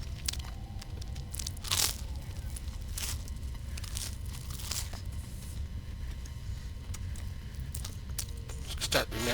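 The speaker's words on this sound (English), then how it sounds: "Sorry, I'm munching on toast." Close-up munching on toast, a series of crisp crunching bites spaced irregularly over a low background hum, fairly quiet and with no talk.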